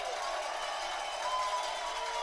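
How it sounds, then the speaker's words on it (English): Football stadium crowd at a college game, Denison against Wittenberg, making a broad, steady roar of noise on third down, with a diffuse cheering wash throughout and no clear individual voices. "Crowd starting to make some noise on 3rd down and 7"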